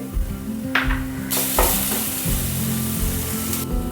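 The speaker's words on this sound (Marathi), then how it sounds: "आणि तेलात छान फ्राय करून घेऊया थोडासा याचा कच्चा वास निघून जाईपर्यंत त्याला फ्राय करायचं आहे" Ingredients fry in hot oil in a pan while making crispy kothimbir wadi, with a steady close sizzle broken by scraping stirs and short bursts of louder spattering.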